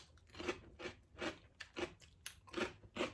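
Crunchy pork rinds dipped in soup are bitten and chewed, giving a series of about six to eight sharp, close crunches in an even rhythm, faint overall with no talk.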